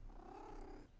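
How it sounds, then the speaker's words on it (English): A cat purrs softly and steadily up close, a continuous low rumbling drone that holds even through the whole second with no voices over it. "you hear purring, oh, you're so sweet"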